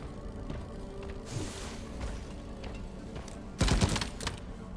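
Bosco the support drone firing in Deep Rock Galactic, a short loud burst of rapid gunfire near the end, following quieter game ambience and scattered effects.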